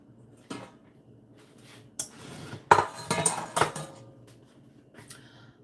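Kitchen utensils and metal cookware clatter and clink as someone rummages through a drawer for a different spatula, with sporadic bursts of rattling that build to a busy jangle before trailing off.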